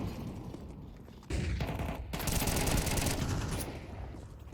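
Rifle gunfire in a Counter-Strike match on the Inferno map, heard as rapid bursts of automatic shots that overlap into a dense, continuous volley, moderately loud, with a busy game soundscape behind them.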